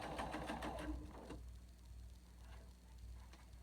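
Sewing machine stitching a seam on a batwing fabric mask, a fast close mechanical whir that stops after about a second, leaving a quiet room hum.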